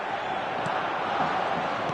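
A football stadium crowd roars in a dense, continuous wash of noise, loud and steady for about two seconds, with scattered voices blended into the din.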